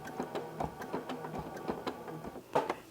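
A domestic sewing machine runs in short stitching bursts while quilting circles with rulers, giving a close, steady mechanical ticking and clatter with a few louder clicks.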